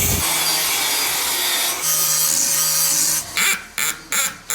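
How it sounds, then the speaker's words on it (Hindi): A cutter machine slices openings about 5 inches wide for large ceiling light fittings, a loud continuous close-up grinding whine that breaks into several short cuts with gaps near the end. "बस कुछ दिन तक ही ये कटर का शोर चलता रहेगा"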